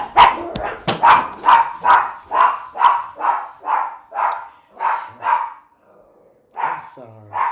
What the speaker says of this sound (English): She's a guard dog. Be quiet.